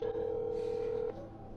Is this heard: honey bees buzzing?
no